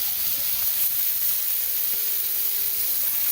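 Steady hiss and sizzle of food heating on a hot cast iron griddle greased with melted bacon fat, a constant close frying crackle with faint faraway tones underneath and no talking.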